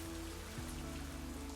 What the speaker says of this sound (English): But the rain created a perfect ambient soundtrack throughout my work days.